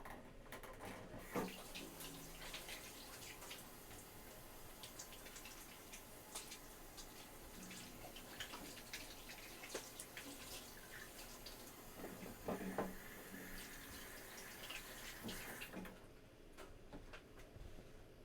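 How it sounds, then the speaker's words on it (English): Tap water runs steadily for about fifteen seconds as grimy, oily hands are washed at a sink, with faint splashing and clatter before the flow cuts off into quiet. "I shall just wash my grimy, oily hands first"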